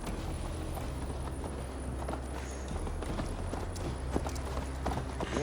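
Steady clip-clop of horse hooves during a ride in Assassin's Creed Valhalla, continuous and fairly close, with a low background bed and no talk over it.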